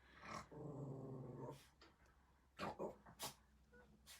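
A pet dog playing in a room gives a low, rumbling playful growl for about a second, then a few short yips and snorts at a distance, faint and without talk.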